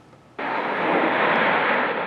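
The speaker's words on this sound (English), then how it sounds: "The sound of airplanes roaring over Northeast Ohio, a tradition of sorts." Aircraft roaring overhead at a Labor Day air show in Cleveland, a sudden loud broadband rush of engine noise that cuts in after a quiet moment and holds steady, with no talking.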